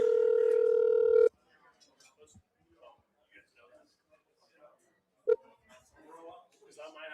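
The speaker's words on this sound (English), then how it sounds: "We're dialing him up." A steady telephone tone holds for about a second as a call is placed, then stops; a short beep follows a few seconds later while people speak quietly in the background.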